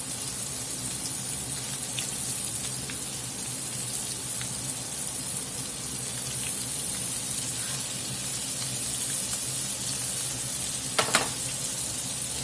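Scallops sizzle in a hot skillet with a steady, dense crackling hiss throughout, a few sharper pops and faint utensil taps near the end, close and even, without talking.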